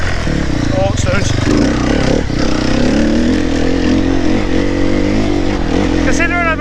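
A 4-stroke dirt bike engine runs steadily and loud up close throughout, its low droning note shifting slightly as the rider moves over stony ground.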